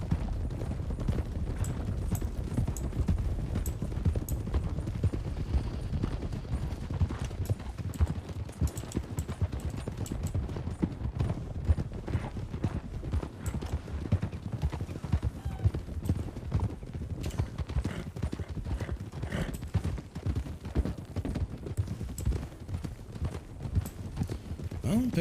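Hoofbeats of a ridden horse in the Calico County roleplay game pound in a fast, continuous galloping rhythm for the whole stretch, close and steady, while people talk over them.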